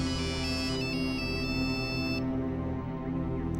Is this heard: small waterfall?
no